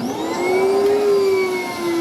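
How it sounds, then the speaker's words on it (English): An MD Flowmaster C650 central vacuum system runs steadily in a garage, giving a loud, continuous motor whine with a sustained high-pitched tone and a faint rise and fall in pitch, with no other sounds. "We know that the MD Flowmaster Central Vacuum System C650 runs"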